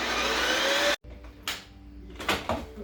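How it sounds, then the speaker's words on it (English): A Ninja Creami machine whirs loudly while processing frozen chocolate peanut butter ice cream, then stops abruptly, followed by a few clicks and thuds as the container is handled. "We're going to place it into the Ninja Creami holder. And we're going to put it on ice cream."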